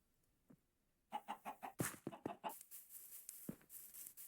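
Chickens cluck in a video game: after a quiet start, a rhythmic run of close, bright clucks is followed by busier overlapping chatter and squawks.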